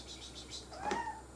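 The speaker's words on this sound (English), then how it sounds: "plus we've got a visit from one of the cats" Jessie, a house cat, lets out a single short meow near the end, close and clear, after a moment of quiet room noise.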